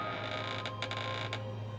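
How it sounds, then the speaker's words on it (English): A men's restroom door at a highway rest area squeaks open slowly, a faint, drawn-out creak with a few brief scraping pulses in a quiet, humming room. "the men's room door squeaked open slowly"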